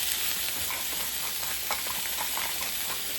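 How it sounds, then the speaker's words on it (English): Salmon fillets seasoned with salt and pepper sear in a hot pan, giving a steady, close, dense sizzle and hiss with small crackling pops throughout. "Let those get a good sear on the bottom"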